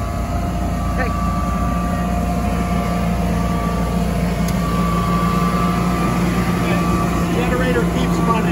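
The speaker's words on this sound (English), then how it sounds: "Generator keeps running." A home backup generator runs in a steady, continuous drone with a low hum, while voices talk over it throughout.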